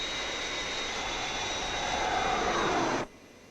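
Airliner jet engines roar steadily and loudly on a landing approach, the Fireflash from Thunderbirds, a continuous broadband rush that swells slightly before cutting off abruptly near the end, with no voices.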